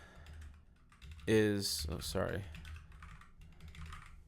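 Typing on a computer keyboard, a short burst of clicking keys under a voice as he speaks, with the keystrokes fairly close and soft amid the talk.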